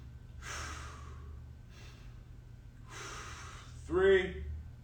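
Audible breaths during a timed stick mobility exercise hold, with a few slow breathy exhales and inhales spaced a second or so apart, close and fairly soft, ending in a short voiced gasp.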